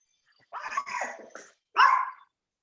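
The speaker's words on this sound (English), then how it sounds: "I hear a dog." Dog barking in two bursts, fairly close, a rough yapping bark followed by a short pause and one more sharp bark.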